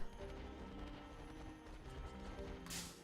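Pokemon Scarlet & Violet gameplay with the donkey Pokemon Mudbray producing hoof-like clip-clop and braying cries over steady game background sound, with a brighter burst near the end.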